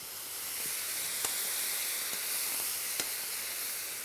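Asparagus being warmed in butter in the same frying pan used for mushrooms, giving a steady close sizzle and hiss with a few faint clicks and no talk.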